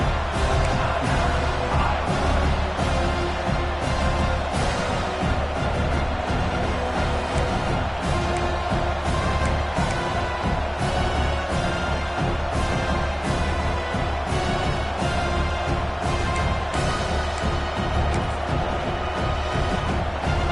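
A steady, dense roar from a stadium crowd at a college football game between Iowa and Indiana fills the air as the field goal unit takes the field, loud and unbroken throughout.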